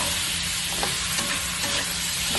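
Chicken pieces stir-fried in a pan with fish sauce for creamy mixed vegetables, giving a steady close sizzle and hiss with faint scraping of stirring throughout.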